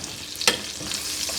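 Pork chops sizzle in a pan with a steady, bright frying hiss, close by, and one brief sharper crackle partway through.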